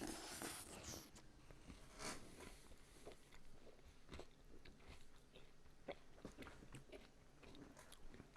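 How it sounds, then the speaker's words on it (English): Close, crisp crunching of cereal being munched, a steady series of dry bites and chews with no talking. "And let you hear me munching."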